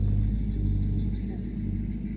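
Low, steady rumble of an old diesel Chevy car engine idling close by, a constant drone with no clear revving.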